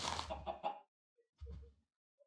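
A Minecraft chicken gives a short burst of clucks, then a softer second cluck after a brief pause, close and fairly quiet.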